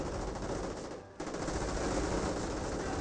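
Rapid gunfire crackles in a Company of Heroes real-time strategy battle, a dense continuous rattle of small-arms shots with a brief dip before the firing resumes.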